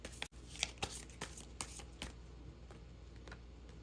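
Tarot cards being drawn from a deck during a reading, heard as soft, quiet card slides and light papery flicks with a few sharper snaps scattered over a few seconds, close up.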